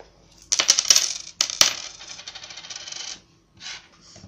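Several metal coins clatter and jingle as they drop onto a hard surface in quick bursts, with a clear ring after each fall and a short final jingle after a pause.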